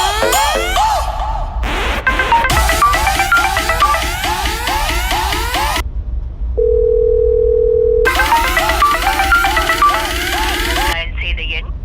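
Telephone tones heard while placing a call: a steady held dial tone in short stretches between bursts of electronic beeping and warbling tones, loud and close.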